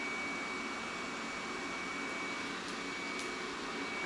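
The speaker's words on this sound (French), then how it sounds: "Aspirateur, la maison." A vacuum cleaner runs in a house, a loud steady whooshing drone that continues unbroken and alone.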